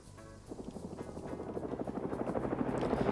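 A helicopter gunship in a Cold War military game thuds overhead, its rotor chop rising from a low hum into a fast, steady beat that grows louder as it approaches, with no talking over it.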